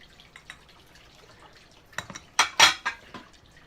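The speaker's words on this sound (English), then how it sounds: "scoop out the hard-boiled eggs" A metal spoon scoops hard-boiled eggs out of a cooking pot of water, with faint drips and small taps first, then a cluster of sharp, bright clinks and scrapes of metal on metal near the end.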